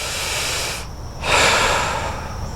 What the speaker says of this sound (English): Not this kind of breath.